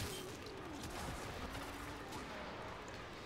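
Gunfire and blasts from the shooter video game Warframe, with a mortar enemy firing, make a continuous dense clatter of shots and booms at moderate level throughout.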